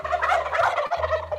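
A wild turkey gobbles in one loud, close, rattling burst that breaks briefly and resumes, heard alone with no talk.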